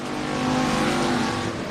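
Pure Stock race cars roar around an oval dirt track at South Texas Race Ranch, a loud, continuous engine drone with layered motors, no talk.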